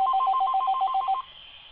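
Telephone ringing: a rapid two-tone electronic trill pulsing for about a second, close and clear, then cutting off into faint room noise.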